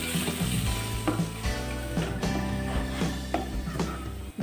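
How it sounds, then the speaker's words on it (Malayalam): Steady loud sizzling of cashew nuts frying in hot oil over low heat, continuous throughout with occasional light stirring scrapes. "അണ്ടിപ്പരിപ്പ് മൂത്ത് തുടങ്ങിയിട്ടുണ്ട്"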